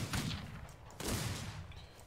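Two gunshots from the Wild West video game Outlaws of the Old West, each a sharp close blast with a short booming tail, about one second apart.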